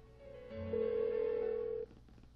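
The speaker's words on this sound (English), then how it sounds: "Why won't she pick up the phone?" A telephone rings unanswered in the game Persona 4 Golden, one steady electronic ring tone lasting over a second, moderately loud and alone against a quiet background.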